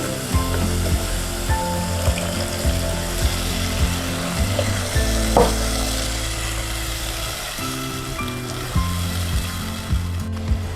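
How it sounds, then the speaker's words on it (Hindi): Onion and garlic paste with whole spices fry in a pan while bheja masala is cooked: a steady low sizzle runs throughout, close and continuous, with faint clinks and rhythmic background hum. "प्याज लहसुन अच्छा भुन रहा है।"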